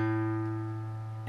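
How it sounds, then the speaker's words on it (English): Low A string plucked once on an acoustic guitar, a single clear, sustained tone with strong harmonics that rings alone and slowly fades. "We pluck the low A string,"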